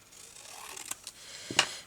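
Scissors snip through paper while a craft pouch is being made, one faint crisp cut followed by a louder, sharper snip near the end, close by and quiet.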